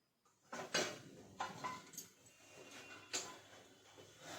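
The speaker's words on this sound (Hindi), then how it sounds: "तो वो रात में जो बर्तन धुल के रखी हूँ सबसे पहले तो उसको लगाती हूँ।" Washed steel dishes and utensils being set back in place in a home kitchen early in the morning, with a few scattered clinks and clatters, fairly close, and no talking.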